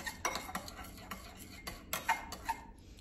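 A utensil stirs pepper, salt and garlic into a pizza topping in a bowl, making quick, light scraping clicks and taps in an irregular rhythm, close and fairly quiet, with no voices.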